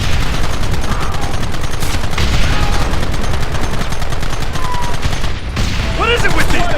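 Dense, continuous gunfire in the Western video game Red Dead Redemption, loud rapid overlapping shots forming a sustained fusillade, with a brief shouted voice near the end.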